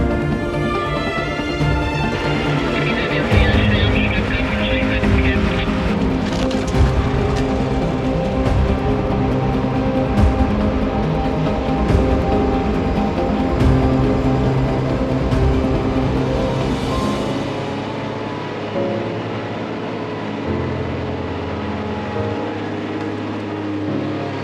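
A Unimog truck grinds up a sandy track toward a bush camp, its engine droning steadily and loudly throughout, easing off toward the end.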